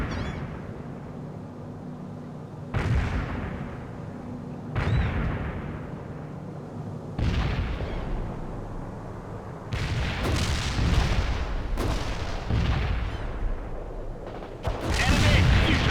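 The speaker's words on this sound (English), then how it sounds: "Grenades fired towards the coordinates." Grenade and artillery fire in the World in Conflict video game, a string of heavy booming blasts coming every few seconds, growing denser and louder toward the end with overlapping explosions.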